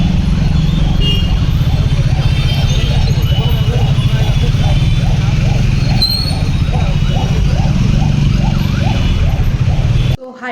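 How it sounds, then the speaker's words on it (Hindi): Busy Bangalore street traffic close by, with a dense steady roar of cars, motorbikes and trucks, a rhythmic engine chug running through it and a brief horn-like tone partway, continuous and loud until an abrupt cut at the end. "this is Bangalore traffic"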